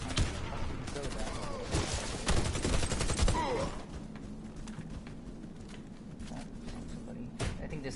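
Rapid bursts of automatic gunfire in the shooter game Warface, dense volleys over the first few seconds followed by quieter scattered shots, with a voice talking over parts of it.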